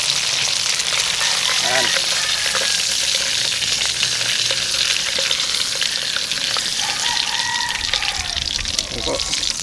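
Korean fried chicken sizzling steadily in hot oil, a loud, dense crackle that runs unbroken throughout, with a person speaking briefly over it.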